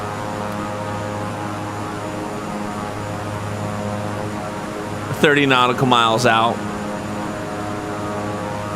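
A simulated airplane engine drones steadily throughout a flight simulator session, with a radio-style voice briefly speaking over the hum partway through.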